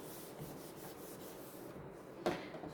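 An eraser rubs writing off a board in a quiet classroom: a soft, continuous scrubbing for a couple of seconds, ending in a brief knock.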